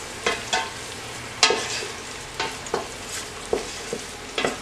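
Garlic sizzles in olive oil in a pan while being stirred, a steady soft crackle broken by repeated scraping strokes of a spoon, close and moderately loud.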